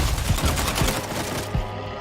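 Several video game gunshots crack out in quick succession, loud and close, then a brief pause before one more shot, with no voice over them.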